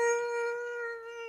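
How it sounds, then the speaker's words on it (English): A dog's howl from a fantasy tabletop adventure soundscape, one long sustained tonal wail with steady harmonics that holds for over a second, fairly close and alone with no talk over it. "And the howl comes, you can hear it coming from down on the lower part of the library area."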